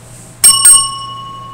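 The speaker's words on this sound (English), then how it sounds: "I ring the bell twice," A bright handheld bell sounds two quick rings in succession at the start of a class period, loud and close, its metallic tone ringing on and slowly fading afterward.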